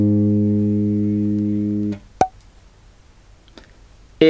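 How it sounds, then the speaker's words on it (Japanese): One G-sharp on a bass guitar's G string rings steadily for about two seconds and is then muted, followed by a few small clicks and ticks, with nothing else playing. "G シャープの音になります。"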